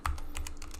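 Quick keystrokes on a computer keyboard, several light clicks in an uneven run, close and clear with nothing else over them.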